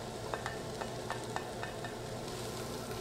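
Shallots sautéing in butter in a pot for a mushroom soup, stirred with a few soft spaced scraping strokes over a faint, steady low sizzle.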